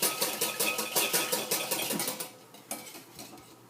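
A spoon stirs gribiche sauce in a bowl while a thin stream of oil is poured in, giving rapid, regular scraping and clinking strokes, loud and close, that thin out and slow near the end.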